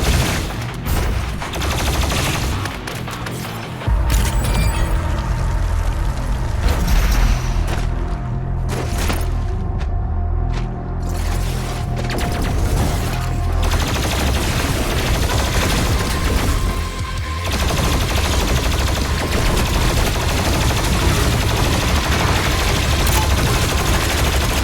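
Rapid gunfire from a weapon in Doom Eternal, dense bursts and booming blasts rattling almost continuously at close range, with a short lull partway through.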